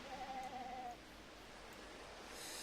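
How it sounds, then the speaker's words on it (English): A single faint sheep bleat wavers in the background of the Agatha Christie: ABC Murders video game, lasting about a second over a quiet, hissy ambience. "There's sheep in the background."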